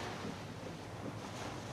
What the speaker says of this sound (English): So we're hitting a lot of that ponding.